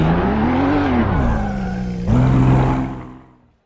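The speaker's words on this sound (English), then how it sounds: "I wish I could drift a Porsche like that" A Porsche race car drifting at Donington circuit, its engine held at high revs in a loud, sustained tone that sags, then jumps back up with a sharp gear change before fading out as the car moves away.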